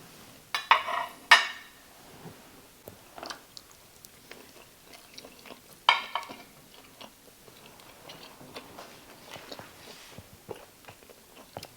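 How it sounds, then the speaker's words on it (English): A butter knife and fork cutting through a slab of oven-roasted beef brisket, giving soft close scraping and clinking of cutlery against a plate, with a few sharper clatters early on and then quieter sawing. "I'm gonna take my knife and fork and just cut that in piece"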